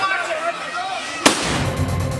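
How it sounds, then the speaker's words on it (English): An industrial-sized firework mortar explodes at a street protest with one sharp, loud bang, set against constant crowd noise and commotion that continues after the blast. "Officers on the front line dodging an industrial-sized firework or mortar"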